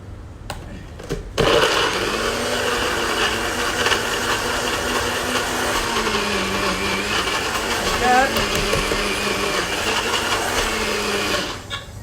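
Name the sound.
NutriBullet blender chopping lamb sauce ingredients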